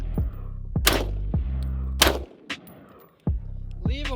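AR-15 rifle fired during outdoor target practice, several sharp, loud reports spaced about a second apart, each followed by a brief ringing decay, with a short quiet gap before a final shot.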